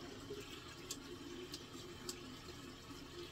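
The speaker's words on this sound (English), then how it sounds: "I'm going to get this rinsed off" A facial steamer from a facial spa set rinsed under a running tap, with a steady, soft splash of water that continues unbroken and stays close and fairly quiet.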